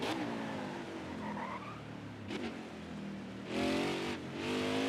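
Race car in the NASCAR Heat 5 video game braking hard and sliding, with engine roar and tire noise swelling in a couple of loud bursts near the end.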